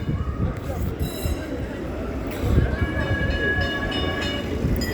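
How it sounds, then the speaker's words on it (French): An old tram passes through Taksim, Istanbul, its steady rumbling roll and faint wheel squeal rising slightly midway under busy street noise, fairly near and continuous. "Il y a un tram qui passe."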